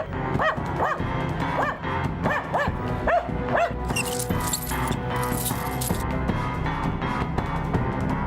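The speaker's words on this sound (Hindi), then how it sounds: "जब भी कुत्ते इस तरह भौंकते हो" Several dogs bark and yip in quick, uneven bursts at a moderate distance, with a bright, hissing noise rising for a couple of seconds midway and the barking carrying on throughout.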